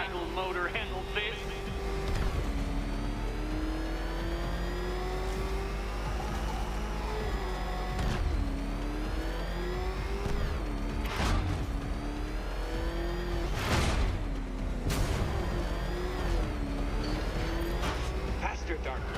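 Batman's car in Batman: Arkham Knight, its engine revving and surging repeatedly, rising and falling in pitch, with sharp bursts and whooshes, loud and close, while a voice talks over it at times.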